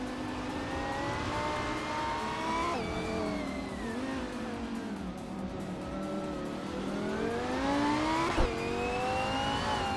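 Lamborghini Huracan race cars in a racing video game, engines droning steadily with rising and falling revs through gear changes, loud and continuous with no talking.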